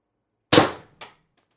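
A single sharp shot from an X-68 paintball marker running on 800 psi HPA, with a crisp pop and a quick decaying tail, then a faint secondary thump a moment later, alone in silence.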